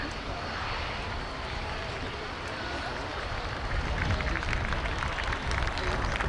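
A Royal Air Force Tornado F3 jet flies at a 1989 airshow, its engines a continuous broad roar that swells louder toward the end, with crowd voices mixed in beneath.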